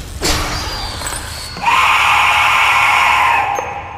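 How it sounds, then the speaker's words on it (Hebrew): A scary scream from a video game bursts out loud and sustained for about two seconds, following a brief sharp onset and a rising tonal whoosh, then cuts off abruptly. "זה עוד צרחה מפחידה שיפחיד כל מורה בסביבה"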